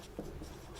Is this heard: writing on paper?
yes